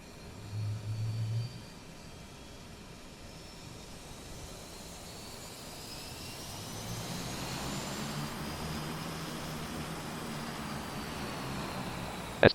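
Turboprop engines of a Dash 8 Q400 spool up in Flight Simulator X, a low steady drone that slowly builds and rises in pitch over several seconds with a faint whine layered on top.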